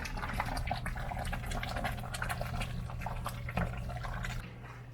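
Water runs from a kitchen tap in a steady splashing, bubbling stream with small drips, close and continuous over a low hum.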